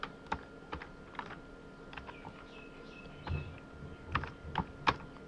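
Keys tapped on a computer keyboard while typing NTFS as a pen drive format label, a handful of sharp, separate clicks at uneven intervals, fairly close, with a quiet background and no talk.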